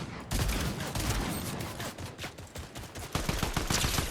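Rapid gunfire in the video game Fortnite, dense bursts of shots crackling one after another at close range, loud and continuous with no talk over it.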